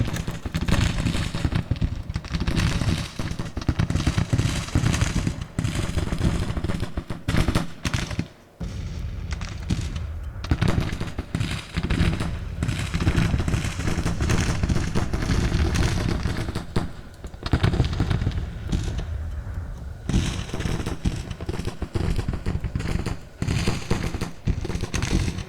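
Artillery booms and rattling musket volleys from a Civil War battle in the Shenandoah in Grand Tactician: Civil War keep cracking and popping in dense overlapping bursts, with a few brief lulls, for the whole stretch.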